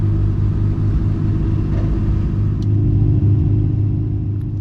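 A Ferrari Challenge race car's engine idles with a steady, loud, low rumble as the car reverses slowly at Valencia, its tone even and unbroken throughout.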